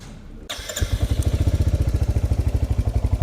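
A Royal Enfield Hunter 350 motorcycle starts and settles into a steady, deep, thumping single-cylinder idle with even, rapid pulses, close and loud.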